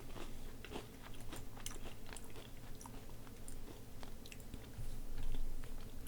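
Someone chews a mouthful of food at close range. Faint moist smacks and light crunches repeat irregularly over several seconds, with no talking.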